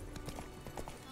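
Horse hooves clip-clop in The Witcher 3, Blood and Wine expansion: a few soft, quick, evenly paced steps, faint and distant.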